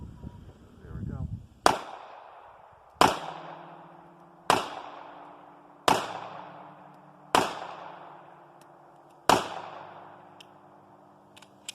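Six loud, sharp gunshots from a Diamondback DB9 9mm pistol, spaced about a second or more apart, each crack followed by a short ringing decay, with a brief voice just before the first shot.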